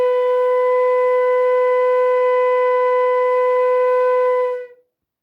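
A flute sustains a single held B note, clear and steady with a bright pure tone, loud and alone, holding evenly for several seconds before fading out.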